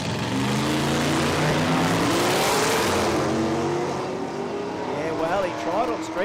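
A drag-racing utility vehicle launching down an Australian eighth-mile strip, its engine note sweeping up steadily and loudly with a commentator talking over it throughout.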